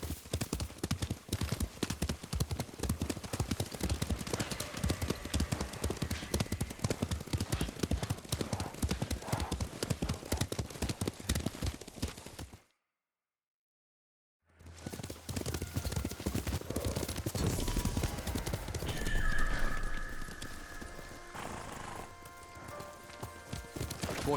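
Horse hooves pound in a fast, steady gallop across Tsushima countryside in the Ghost of Tsushima video game, with dense rapid clip-clops, a short silent break, then more galloping with a whinny and background voices.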